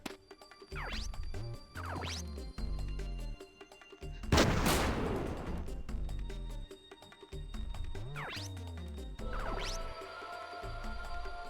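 Repeated bursts of gunfire from grenade tanks in the video game Front Mission 3, with loud rapid volleys and a heavy explosive blast in the middle, set against layered game sound effects.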